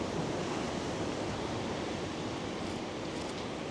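Ocean surf at the seashore rolls in as a continuous broadband wash, steady and fairly close, with some wind noise on the microphone and no voices.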